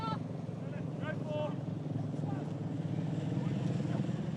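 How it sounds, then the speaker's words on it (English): Helicopters hover over a rugby league stadium during an NRL match, a steady rotor drone with crowd noise and commentary running on top. "Choppers making some noise."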